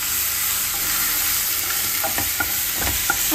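Garlic paste and two green chilies fry lightly in a pan for dhaba-style soya chaap masala, a steady loud sizzle with occasional spoon scrapes and stirring clicks, no talking.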